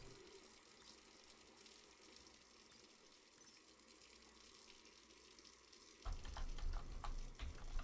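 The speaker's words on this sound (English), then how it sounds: "The tap takes an awful long time" Water tap running in the Brewmaster beer brewing simulator, a steady hiss that grows louder and fuller in the last couple of seconds.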